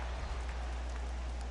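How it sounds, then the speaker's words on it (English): Heavy rain in the baseball game MLB The Show, a steady dense hiss of downpour with a low hum beneath, continuous and even throughout, no voices. "Well, that rain is really coming down right now."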